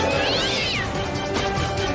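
A cat yowls and meows in distress while struggling against being held, a loud, close, strained cry that rises and falls over a noisy background.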